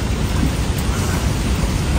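Heavy rain with wind in a forest, a dense continuous roaring hiss, loud and close, without pauses.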